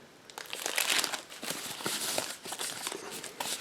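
Crinkling plastic bags wrapped around individually bagged SNES Mini controllers, a close, continuous rustle and crackle of handled plastic with bursts of sharper crunching, no talking.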